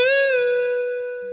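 An electric guitar note on the 12th fret of the second string is bent up and released, ringing as one clean, sustained tone that wavers slightly at first, then holds steady and fades gently.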